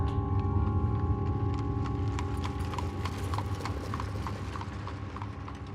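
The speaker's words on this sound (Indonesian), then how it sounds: "Dan gak lama kedengeran tuh ada suara delman." Steady clip-clop of hooves from a horse-drawn delman carriage at night, rhythmic and continuous, over a low rumbling drone of wheels and ambience, with no speech.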